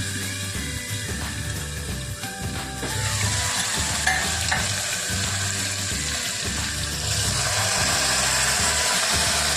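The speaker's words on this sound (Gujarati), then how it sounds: "પછી તેને વઘારવાનું, નાખી દેવાનું" Loud, steady sizzling of curry leaves tempering in hot oil, with faint clinks of stirring throughout.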